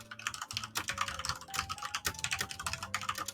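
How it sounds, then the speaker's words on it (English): Fast, steady typing on a computer keyboard fills the moment, a dense run of close clicking keystrokes layered over a low background hum and faint tonal music. "Dude, you're typing up a storm."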